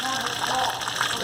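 The black water tank of a 2018 Salem 27DBK RV dumping, a loud steady gushing rush of water, close and continuous, with someone talking over it.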